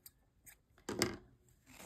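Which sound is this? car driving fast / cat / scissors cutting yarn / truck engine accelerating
scissors cutting yarn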